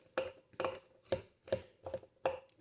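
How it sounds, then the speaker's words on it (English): Garlic being chopped with a knife on a cutting board, about six crisp, evenly spaced chops close by with short pauses between them. "put my hand over the knife and just more or less chop"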